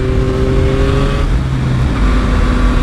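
A 2023 Yamaha MT-09 SP motorcycle cruising in fourth gear through corners, its engine a loud, steady drone close by, holding a fairly even pitch with only slight shifts in tone.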